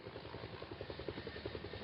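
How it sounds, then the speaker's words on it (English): A helicopter flies in a video game resort, giving off a steady, close droning rotor roar with a soft rhythmic thumping pulse running through it, with no talking. "since I'm driving this helicopter, it would take me there and the helicopter will go into a pause mode"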